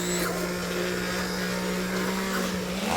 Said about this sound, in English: now we're going to blend this up with an immersion blender